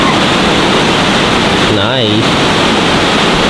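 A waterfall at San Diego Zoo Safari Park roars as a loud, steady broadband rush, with a brief spoken word and a whistle-like tone cutting in midway.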